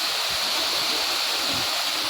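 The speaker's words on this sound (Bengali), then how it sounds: "এই দেখো পাহাড়ের জল" A mountain waterfall in the Ayodhya Hills pours in a steady, dense, hissing rush, close and loud, with no voices over it.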